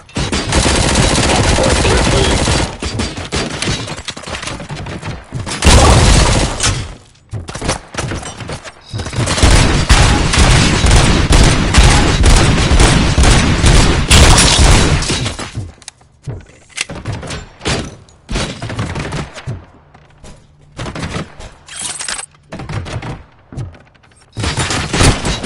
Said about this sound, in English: those UEDs shoot so beautifully